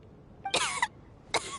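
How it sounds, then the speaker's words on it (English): A character in the video game Genshin Impact coughs, a short harsh burst followed by a second brief cough, fairly close over quiet background. "How long have you had that cough, Tonya?"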